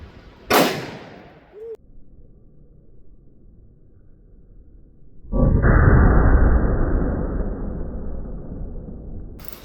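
A single sharp gunshot from a .357 Magnum firing a Hornady Lever Evolution round into a ballistic gel block, loud and near, followed by a faint metallic click and later a long broadband rush of noise.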